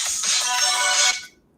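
A bright, trilling phone ringtone plays loud and close for about a second, then cuts off and fades into silence.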